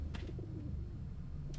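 Pigeons coo in a low, soft, continuous murmur within the video game Observer, a steady close ambient bed with faint brief chirps at the start and end.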